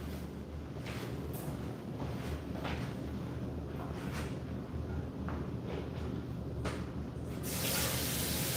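Tap water runs steadily into a kitchen sink while items are rinsed before cooking, a continuous broadband rush with brief clatters of things being handled and a louder surge of flow near the end.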